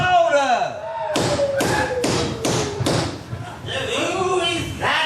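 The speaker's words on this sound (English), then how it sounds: "Who is that would knock on it to break down the gate?" Five heavy thuds of knocking on a gate land in a steady run, loud and close, with voices speaking before and after in a stage production.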